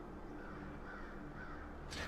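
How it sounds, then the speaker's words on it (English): Crows cawing in the video game Saint Kotar, harsh calls over a dense, steady ambient drone, with a brighter burst of noise at the very end. "Damn crows!"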